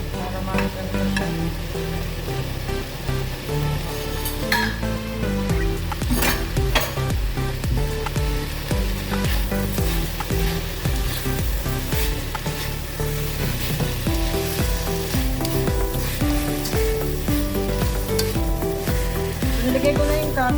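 Beef kimchi fried rice with cabbage stir-fries in a hot pan, a steady loud sizzle with scraping and stirring clatter throughout and no talking.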